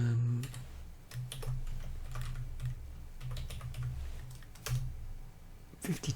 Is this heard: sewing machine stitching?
no